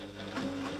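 A sewing machine stitches along a seam line on a quilt binding, giving off a close, steady mechanical whir with an even hum throughout the short stretch, with no one talking.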